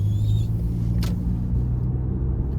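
2019 Lexus RX350L with a 3.5-litre engine accelerating out of a corner: a low, steady engine rumble heard from the cabin, close and continuous, no talking.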